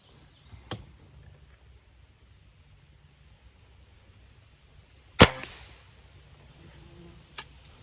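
A pellet gun fires twice: a sharp, loud crack followed by a short ringing tail, then a second, softer snap a couple of seconds later, with a small click near the start and a quiet room between shots.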